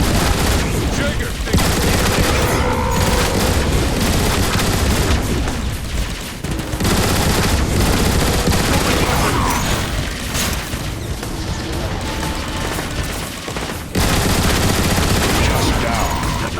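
Heavy weapon fire in the game Transformers War for Cybertron: dense, loud bursts of rapid shots and booming blasts in rapid succession, with brief lulls and a voice speaking under the barrage.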